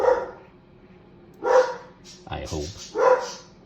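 A pet dog named Frig barks indoors: three loud, close single barks spaced evenly apart, with someone speaking briefly between them.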